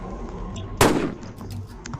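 A single sniper rifle shot rings out in a Roblox Rainbow Friends gun mod game: one sharp, loud crack with a brief decaying tail, standing out over low game background noise.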